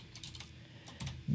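Short bursts of keystrokes on a computer keyboard, a few quick taps in two small clusters, close and fairly quiet, with a soft thump at the end.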